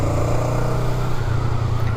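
A Honda Rebel 500 motorcycle engine drones steadily while riding, a loud, close, low rumble that holds constant with slight wavering and no talk.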